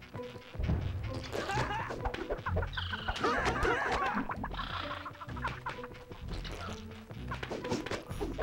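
Squawking, clucking bird calls of dodos in the Nicktoons: Battle for Volcano Island video game, repeated in bursts over busy game music and effects.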